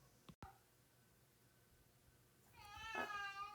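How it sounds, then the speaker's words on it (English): A house cat meows once indoors in a quiet room, a single drawn-out call near the end, preceded by a faint click. "Oh, the cat's here. Can you hear him?"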